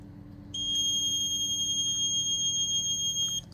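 A connected water leak detector sounds its alarm with a continuous high-pitched electronic tone. The tone starts abruptly, holds steady and loud for about three seconds, then cuts off over faint room noise.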